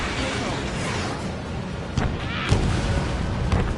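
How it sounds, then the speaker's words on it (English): In the Ace Combat 7 combat flight game, a missile strikes an enemy fighter: a few dull booming impacts burst out over a steady roar of jet and background noise, with no talk. "Trigger's missile hit."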